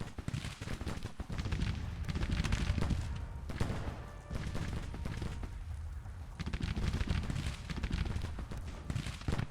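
Musket and rifle fire in the Civil War strategy game Grand Tactician: The Civil War, Union spring 1861 campaign: a dense, continuous fusillade of overlapping shots rolls on without pause, loud and crackling, with swelling and easing volleys.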